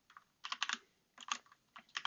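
Bursts of quick keystrokes on a computer keyboard while code is written for a web3 NFT minting site, close and clear, coming in three clusters separated by short pauses, with no talking.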